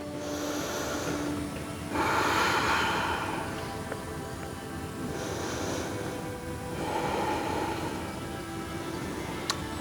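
Slow, deep breaths drawn in and pushed out in a long steady rhythm, close and soft, from a yoga practitioner holding a standing pose, with no talking.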